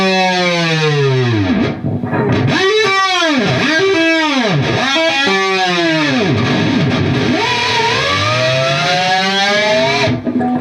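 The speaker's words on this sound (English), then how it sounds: "pull that 6 off to an open and do a full whammy bar dive off that open G string" Electric guitar with a whammy bar, heavily distorted, diving the bar repeatedly off an open G string so the pitch swoops down and back in several loud, close dives over a sustained tone.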